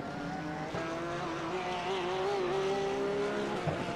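A GT3 race car at the Catalunya circuit drives past with a loud, steady engine note that holds a high, rising tone as it accelerates down the front straight, with no talk over it.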